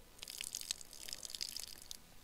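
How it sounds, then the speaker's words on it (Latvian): Water poured off fish feed pellets into a bucket, a thin steady trickle with bright splashy drips, close and moderately quiet. "Tā, tagad laikam ūdeni noliest nost."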